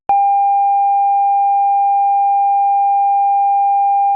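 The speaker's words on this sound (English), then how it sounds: "This is how a sine sounds at 800 Hz." A steady 800 Hz sine tone sounds alone, loud and unwavering, holding evenly for about four seconds after a sharp onset.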